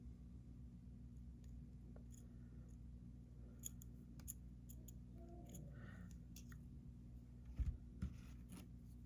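Beading wire being snipped for earrings: a quiet room with a couple of faint clicks early on, then a sharp, close double snip of cutters near the end, with no talking.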